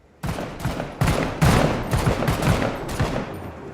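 Battle rifle fire in a video game: several loud, close bursts of gunfire in quick succession, each sharp crack trailing into a rumbling echo, with no talk over them.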